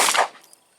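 One sharp gunshot from a Ruger 9E pistol during a reliability test, close and loud, with a short echo tailing off quickly into quiet.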